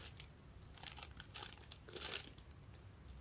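Thin plastic wrapping crinkles and crumples as a new phone casing for a Nokia N81 is unpacked, soft, close rustling bursts that rise and fall irregularly, fairly quiet, with no voices.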